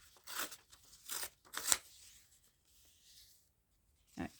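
Paper torn by hand in a few short ripping bursts to form a rough, scrappy edge on a homemade double-flap envelope, close and fairly quiet, with soft rustling between tears.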